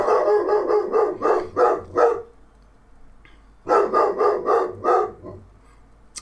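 Bella the dog barks in two rapid bursts of five or six sharp barks each, loud and close, with a short quiet gap between them and no talking.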